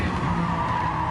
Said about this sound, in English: Passing the passage. Yeah, and then brake.